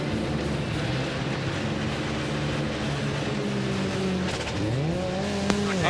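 A Dyson Racing sports car leaves the pits during the 2005 American Le Mans Series race at Lime Rock, its engine droning loudly before climbing in a rising rev as it pulls away, with track noise around it.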